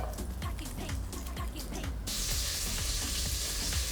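Crab pieces sizzle and crackle in hot oil in a pot, a dense steady frying hiss with scattered pops that grows brighter and louder partway through.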